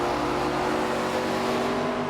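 A race car engine in the NASCAR 25 video game at Talladega drones at high, steady revs with a strong harmonic tone, loud and close throughout, without an obvious shift break.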